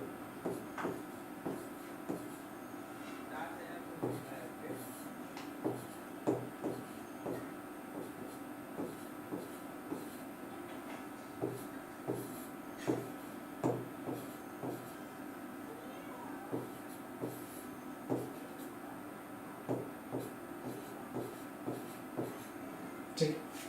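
A teacher writes on a board during a Hindi-language physics lecture on units and measurement, with irregular short taps and scratches spread throughout as the teacher talks over them.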